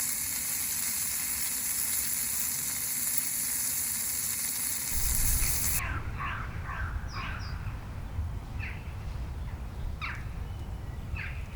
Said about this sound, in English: I'm gonna get a steak cooked.